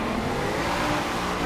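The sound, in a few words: 1997 Land Rover Defender 90 drifting in a video game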